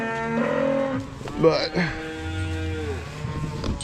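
Bulls on a farm moo loudly, close by, in long low calls that overlap one another, while someone speaks briefly.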